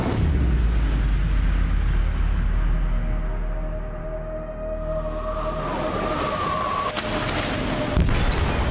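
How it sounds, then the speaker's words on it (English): Explosion in a ship's hold in Detroit: Become Human, a deep booming blast with a long rumbling low roar that slowly fades, followed by creaking metallic groans and a later thud, loud and close with no voices. "They detonated an explosive in the hold. The ship is sinking, sir."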